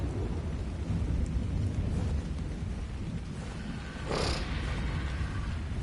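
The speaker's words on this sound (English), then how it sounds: "This storm needs to go somewhere because" A steady roaring thunderstorm with rain rolls on continuously in the video game ARK Ragnarok, a dense low rumble with a brighter crackle of thunder swelling near the end, no voices over it.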